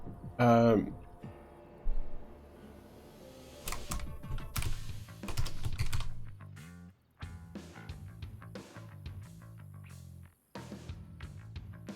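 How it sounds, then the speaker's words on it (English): Computer keyboard typing in clusters of clicks during a game session, mixed with background game music and sound effects; no one speaks over it. "I gotta type it in again. I can't see the keys."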